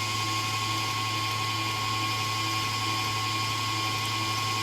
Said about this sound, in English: Now I'm turning up the mixer to high speed